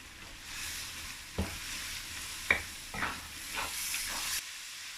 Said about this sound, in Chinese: 翻炒入色入味